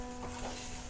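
Egg stirred and frying in a pan, a soft sizzle with light scraping strokes, close and quiet, briefly heard alone.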